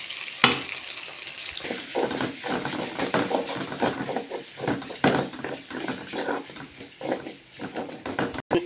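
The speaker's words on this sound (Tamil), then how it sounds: "லைட்டாக கொஞ்சம் உப்பு, நூடுல்ஸை கொட்டணும்ப்பா" Noodles tipped into a hot pan with carrots and stirred, a steady dense sizzle with scraping and clattering spatula strokes throughout, no talking.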